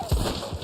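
A spooked horse in the western video game Red Dead Online, startled by nearby wolves, giving a brief thudding hoof stamp followed by a short restless rumble.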